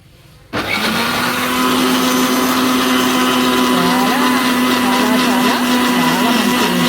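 Blender switching on abruptly and running steadily at high speed, making beetroot and ginger juice, a loud continuous whirring drone with churning variations as the contents spin.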